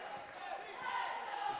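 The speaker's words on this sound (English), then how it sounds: "the fans start to cheer" Fans cheer and chant at a boys high school basketball game between Blackhawk Christian and Lakewood Park Christian. The crowd noise is faint and continuous, swelling slightly toward the end.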